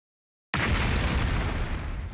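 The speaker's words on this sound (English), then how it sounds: "The sponsor pressed the detonation button for the bomb in my body." A bomb planted in a character's body detonates in the video game The Hundred Line: sudden silence breaks into a loud, sustained roaring blast that rumbles on for over a second and a half.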